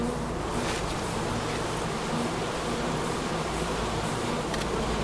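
Bees buzz steadily and close up around a person's face, a continuous droning hum with no talking.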